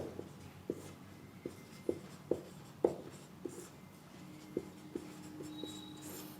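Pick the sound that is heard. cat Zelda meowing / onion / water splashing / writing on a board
writing on a board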